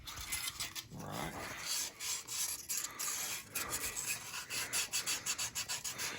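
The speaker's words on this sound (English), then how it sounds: "This is how you sand bodywork" Hand sanding of car bodywork, with rough abrasive rubbing strokes repeating in an uneven back-and-forth rhythm, close and scratchy, no talking.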